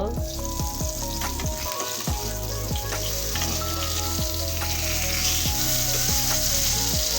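Egg-battered eggplant fritters frying in hot oil in a pan, with a constant close crackling sizzle and repeated light clinks and scrapes of a utensil stirring and turning the pieces; no one speaks.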